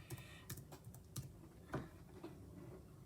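Quiet typing on a computer keyboard, a handful of irregular key taps and clacks close by, with no talking.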